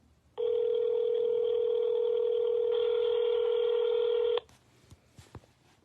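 Steady telephone dial tone while calling an auntie in Clarendon, one unbroken electronic tone of about four seconds that cuts off abruptly, followed by a few faint clicks.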